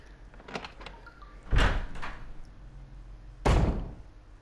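A door in the Resident Evil video game opens and shuts, with soft clicks of the handle followed by two heavy, close thuds about two seconds apart over a quiet low hum.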